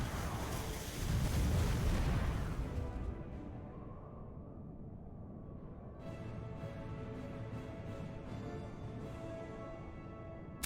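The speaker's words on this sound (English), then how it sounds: "I'm gonna do some canister shots here then." Canister shot fired from cannons in Port Royal 4, a heavy booming volley rolling for a few seconds, then fading into a quieter musical tail, with no talk.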